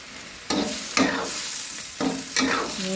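Vegetables cooking in a pan are stirred in four or five scraping strokes, each a sharp burst over a continuous sizzle of frying, with no talk.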